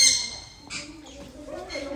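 A conure parrot gives a sharp squawk at the start, followed by softer chirps and calls nearby, with a person's voice faintly present.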